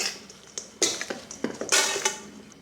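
Chicken, crispy bacon, pecorino Romano, salt, pepper and ranch dressing being stirred together in a bowl, with scraping and clinking of a utensil against the bowl in irregular bursts, close and moderately loud.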